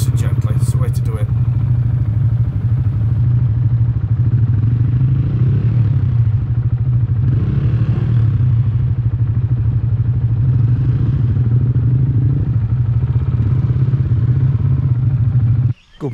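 An adventure motorcycle's engine drones steadily and loudly while the rear wheel struggles for traction on rock, with a rattling clatter over the top and people talking at times.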